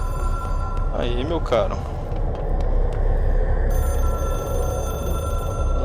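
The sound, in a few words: telephone ringing in the video game Control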